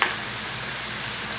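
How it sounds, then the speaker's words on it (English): Sweetbreads sizzle in a pan with oil and butter, a steady, dense crackling hiss that runs evenly throughout without pause. "I threw them in the pan with the oil and the butter, okay?"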